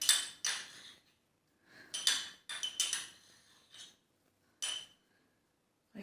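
Poppy seeds going into a dish for chicken pasanday rolls, with several light metallic clinks and taps of utensils against a pot or bowl, close and fairly quiet, spaced in short irregular bursts.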